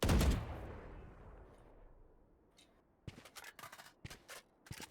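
A loud gunshot booms and rings out in a Valorant match, followed after a pause by a string of sharp, snappy shots and clicks fired in quick bursts.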